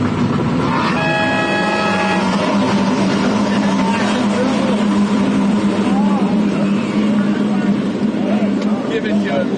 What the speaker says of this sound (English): it looks like the boat has to start that engine